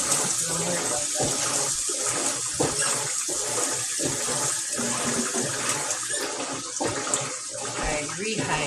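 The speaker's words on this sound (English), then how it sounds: "Put some water in it." Water pouring steadily into a pot while cooking at home, a continuous rushing, splashing stream throughout with faint voices underneath.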